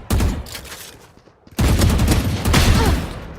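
Gunfight in an esports video game match, rapid bursts of close automatic gunfire broken by a short lull before heavy firing resumes, loud and dense.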